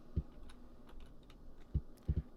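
Keyboard keys in the video game Omikron: The Nomad Soul tap in short irregular bursts, a few soft clicks followed by a quick double tap, close and fairly quiet with no talk.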